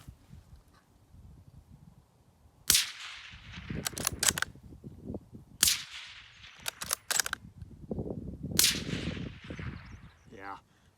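A suppressed bolt-action .223 rifle firing subsonic loads: three separate sharp cracks several seconds apart, each followed by clattering mechanical handling noise, over a low outdoor rumble.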